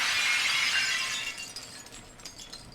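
A stained glass window shatters in BioShock 2, a loud crash of breaking glass that fades into scattered tinkling fragments settling over a couple of seconds.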